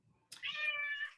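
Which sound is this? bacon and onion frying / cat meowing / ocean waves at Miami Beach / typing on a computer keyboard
cat meowing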